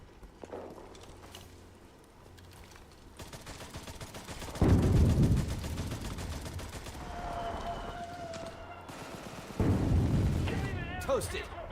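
Artillery barrage in the World War II shooter Enlisted: two heavy booming impacts several seconds apart, each followed by a long rumbling roll, with scattered distant gunfire throughout.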